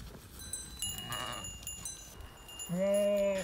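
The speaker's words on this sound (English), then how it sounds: "the sheep are coming very close now" A flock of sheep bleats outdoors, one close, drawn-out bleat rising loudly near the end over quieter bleating and rustling in the background.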